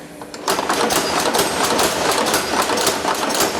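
A blacksmith's power hammer, its pace set by a foot pedal, pounds hot metal in rapid, evenly spaced blows, loud and close in a forge workshop.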